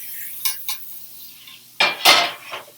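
Mushrooms are pushed around a pan in smoking butter, with a few sharp scrapes and clinks of a utensil against the metal over a faint sizzle.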